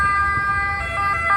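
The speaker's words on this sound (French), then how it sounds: "ce sont les sirènes de Naples" Ambulance siren wailing through the streets of Naples at Piazza Municipio, a steady tonal wail held over low traffic rumble for a brief stretch, fairly close and prominent.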